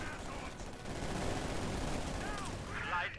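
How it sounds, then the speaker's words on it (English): Sustained bursts of assault rifle fire in a Company of Heroes 2 battle, dense rattling gunfire running continuously under other game noise, with a brief chirp near the end. "Partisans focused down by the assault rifle fire."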